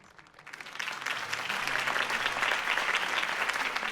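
Applause in the Batman: Realm of Shadows audio drama swells up quickly from near silence into a loud, dense crowd clapping that keeps going without letting up.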